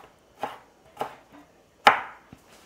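A knife chops through tomatoes on a board in four sharp, spaced strokes, the third the loudest, followed by a faint tap, close and clear with no talking.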